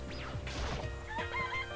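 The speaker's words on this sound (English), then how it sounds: "It's a chicken!" A chicken clucks and squawks in short bursts, close and fairly clear over a busy background of other sounds.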